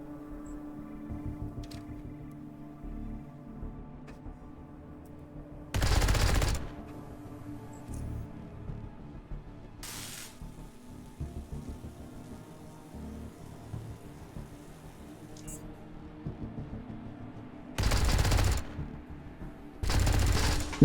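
Heavy weapon gunfire in the video game Underrail, with four loud bursts of sustained automatic fire separated by stretches of quieter game ambience and low rumble.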